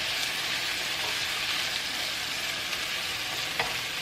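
Leftover pesto sauce goes into a mixture frying in a pan, a steady broadband sizzle that stays loud throughout with a brief stir or clink near the end.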